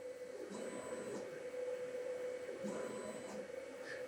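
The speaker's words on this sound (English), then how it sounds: "I can even draw a box in the workspace and hit the Frame button and the machine follows" A K40 laser cutter's head travels around a box outline, giving a steady mechanical hum and whir with two brief high stepper-motor whines as it changes direction, fairly faint and continuous.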